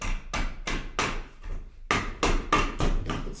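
A hammer strikes a chair being repaired, about ten loud, close blows in an uneven rhythm with short pauses between them, each hit ringing briefly.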